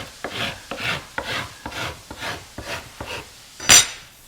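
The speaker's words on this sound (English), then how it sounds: "I'll file both edges" Rhythmic rasping strokes of a file along the edges of wood edge banding, about nine even back-and-forth passes close up, ending with a sharper scrape.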